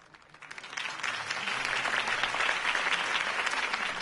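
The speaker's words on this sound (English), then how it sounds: "could have heard that applause" Applause from a crowd in the video game Batman: The Telltale Series swells after a brief start and holds as loud, dense, sustained clapping, with no talk over it.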